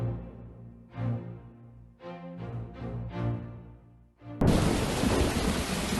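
A video game thunderstorm: deep rolling thunder swells in several waves, then heavy rain suddenly pours in as a loud, dense hiss that continues to the end.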